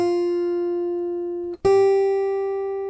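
Two sustained guitar notes a whole step (two frets) apart, the first ringing steadily for about a second and a half, then a brief gap and a second, higher note plucked and held, clean and close with no talking.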